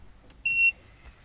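A single short electronic beep from a Peugeot 3008 dashboard notification when trying to start a car that won't crank, one clear tone in a quiet cabin.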